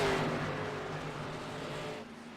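Stock cars race to the finish line at Daytona, a dense roar of engines sweeping past at a distance, loud at first then easing slightly, with no voices.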